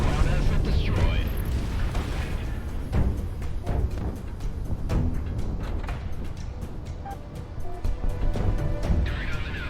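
A ground target blows up in the Project Wingman flight combat game, with booming blasts and crackling impacts layered over a constant jet engine roar and dense action sound.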